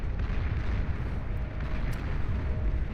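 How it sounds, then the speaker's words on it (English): Dense, continuous rumble of Mauser artillery units firing in the real-time strategy game Beyond All Reason during a 6v6 deathmatch, with overlapping booms and blasts forming a steady low-heavy barrage and no talk. "Mauser firing away, though."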